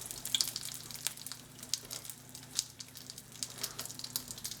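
Brick pastry sheet frying in hot oil, a steady crackling sizzle with scattered sharp pops, fairly quiet and close, no voices.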